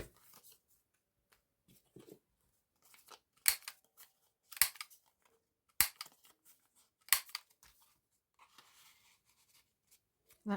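Scissors snip small paper tabs off a journal page at a desk, making several crisp, separate cuts at irregular intervals with quiet gaps and faint paper handling between them.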